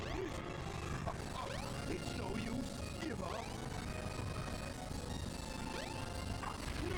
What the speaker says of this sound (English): Oh no, he's smashing more platforms.